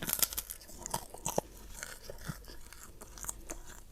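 Close, crisp crunching and wet chewing as someone eats spicy rica rica trakulu fish, with irregular bites and smacks continuing steadily and no talking.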